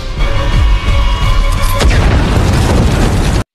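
A bomb detonates in a film scene where a magical creature is destroyed: a loud, sustained rumbling blast fills the clip, with a sharp burst near the middle, and it keeps roaring at full level until it cuts off abruptly.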